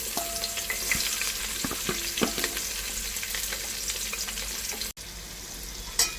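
Onions and green chillies frying in a pan for soya chunks pulao, a continuous close sizzle with scattered pops and spatula scrapes, no talking.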